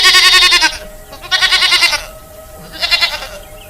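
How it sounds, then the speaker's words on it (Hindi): Goats in a cartoon grazing field bleat loudly and close, three wavering, quavering calls with short gaps between them. "उसकी बकरियां खुद ही घास चर रही होती हैं"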